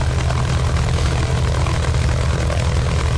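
A Mitsubishi A6M5 Zero's radial piston engine runs steadily after startup, a loud, close, continuous propeller drone with a deep pulsing rumble throughout.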